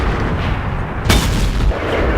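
A single loud tank cannon shot from the T110E5 in World of Tanks, a sharp broadband blast partway through over steady rumbling engine and battle noise.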